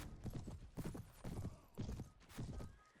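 Rapid rhythmic hoofbeats of a galloping horse in the Perisno Warband mod video game, steady and fairly loud across the whole stretch, with no voices over it.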